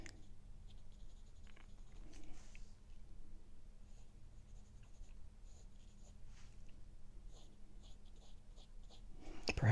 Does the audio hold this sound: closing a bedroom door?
no